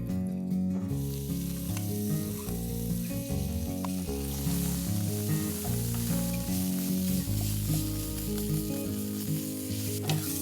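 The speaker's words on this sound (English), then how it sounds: "cook the onion paste till it's nice and brown" Onion paste sizzles steadily in hot ghee with mustard seeds, curry leaves and asafoetida, a close, continuous frying crackle with occasional stirring scrapes and no talking.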